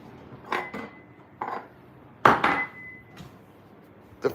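Ceramic bowls and dishes clink and clatter in a short series of sharp knocks as one is lifted out from the stack, with quiet pauses between the bumps.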